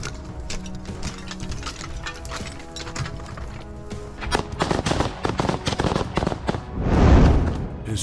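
Gunfire from Russian troops storming a house in combat footage: rapid bursts of shots crack in irregular clusters, growing denser and louder midway, ending in one heavy, booming blast.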